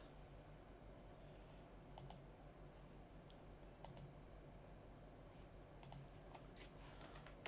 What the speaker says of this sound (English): So I'm just going to type this in